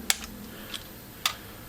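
A torque wrench clicks while tightening truck connecting rods, a few sharp, close metallic clicks spaced unevenly over a quiet workshop background.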